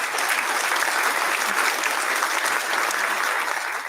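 Steady applause from an audience fills the whole stretch, dense and even in level from start to finish, with no voices standing out.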